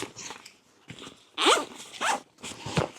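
Exposed zipper on a handmade padded helmet and night-vision bag being zipped in several quick rasping pulls, close and fairly loud with short pauses between.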